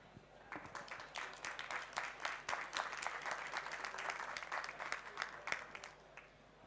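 Audience applause greeting an artist at an artists' talk, a sustained wave of clapping from a modest crowd that rises quickly and holds steady for several seconds.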